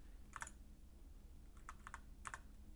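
Quick bursts of keystrokes on a computer keyboard: one short cluster of taps, a pause, then two more rapid clusters, soft and close in a quiet room.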